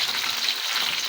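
Battered tofu frying in hot oil, a steady bright sizzle with fine crackling, close and fairly soft, continuous for the whole moment with no talking.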